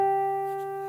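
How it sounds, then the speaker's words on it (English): A pure, bell-like guitar harmonic played at the 12th fret of the G string rings out clearly and decays slowly, a single note with no voices. "we end our tab on the 12th fret of the G string"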